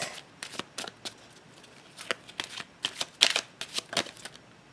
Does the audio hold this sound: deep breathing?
no